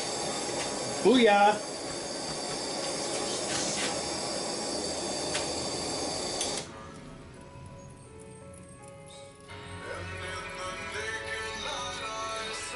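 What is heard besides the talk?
hot O1 tool steel knife quenched in oil, hissing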